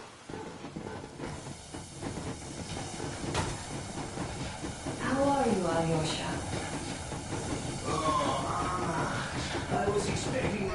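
Steam train from a PS4 game rolling along the rails: a steady clattering rumble with hissing steam runs throughout, while a voice speaks over it partway through.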